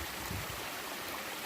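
A mountain creek flows steadily nearby, giving a constant broadband rush of water with a low churning undertone and no voices, heard in a remote forest while scouting for a bushcraft homestead site.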